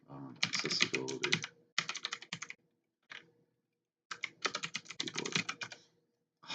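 Rapid typing on a cheap computer keyboard, close and clattery, in two dense bursts separated by a short pause and a few isolated keystrokes, with no talk over it.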